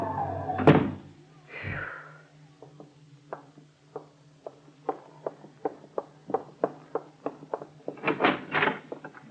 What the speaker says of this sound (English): I'll open the door for you.